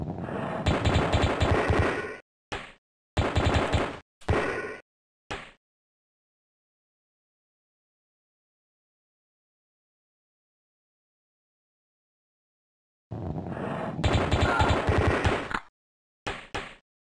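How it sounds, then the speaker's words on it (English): Submachine gun fire in the video game AOPID Total Carnage, heard as sustained rapid bursts with short gaps between them, then a long silence before a few more loud bursts near the end. "in this room we want the submachine gun out for"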